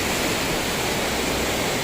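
Rushing water where the Bhagirathi and Alaknanda rivers meet at Devprayag, a steady broadband roar of flowing current, continuous and fairly loud with no voices.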